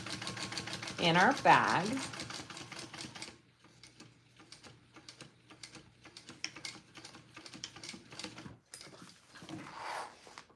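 Sewing machine stitching a seam in the lining of a Karvi mini backpack, a fast rattling run near the start followed by quieter intermittent machine noise while a person talks throughout.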